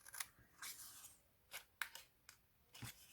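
Paper being snipped with scissors while making a bohemian-style scrapbooking advent calendar: several short, crisp cuts spaced irregularly, close and fairly quiet, with no talking.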